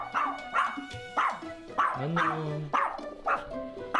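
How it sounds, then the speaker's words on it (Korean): A small dog indoors in a living room barks repeatedly at strangers, giving sharp, loud, rhythmic barks about every half second with a short whine between them, while a person speaks a brief greeting. "인기척에 열심히 그 자리에서 짖어대기만 하는데요"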